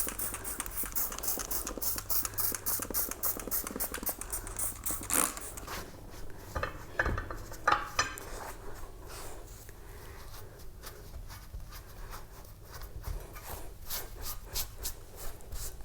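A towel wiping a garden urn clean, continuous close rubbing and scrubbing strokes for about five seconds, then quieter intermittent wiping and rustling with scattered light knocks.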